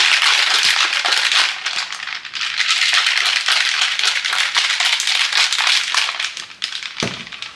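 A cocktail shaker full of tea and ice shaken hard and steadily, a loud continuous rattle of cubes against the walls with short pauses, ending in a dull knock.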